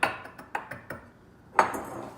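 A spoon tamping sugar into the bottom of a cocktail glass, a series of light clinking taps, a few quick ones then a brighter ring, close and quiet.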